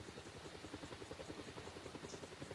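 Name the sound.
helicopter in a flight simulator video game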